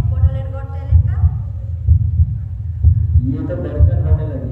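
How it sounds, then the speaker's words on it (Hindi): A heartbeat sound effect plays at a talent show final: steady, deep lub-dub thumps about once a second over a low hum, with voices and other sounds faintly mixed above. "ये तो धड़कन होने लगी है।"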